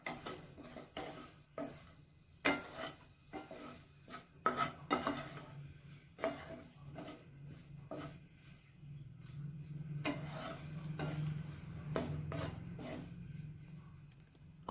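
Egg masala stirred in a pan over a low flame, repeated scraping strokes of a spoon against the pan with a soft sizzle underneath, close and fairly quiet, no talk.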